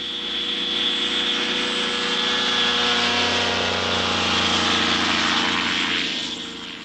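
A tiny microlight aircraft weighing about 260 pounds, taking off from a makeshift runway in Iceland, its propeller engine droning loud and steady as it accelerates, the buzzing tone holding close and continuous throughout.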